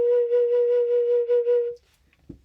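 A sustained woodwind note, B flat, played as a single steady tone of about two seconds, clear and close with a slight wavering, then ending in near silence with a small knock.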